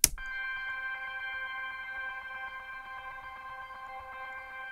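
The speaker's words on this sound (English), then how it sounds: "Got this drone here playing a C." A sustained synth drone holds a steady C note, its stacked harmonics ringing evenly and alone after a brief attack, setting a calm background atmosphere for chill house.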